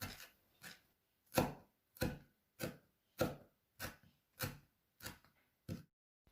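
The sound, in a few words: finely chopping parsley with a knife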